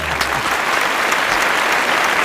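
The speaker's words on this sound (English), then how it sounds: "one does not get applause for what one should normally do" Applause in a radio studio on a live morning show, a steady dense clapping that fills the whole stretch at an even, fairly loud level with no talk over it.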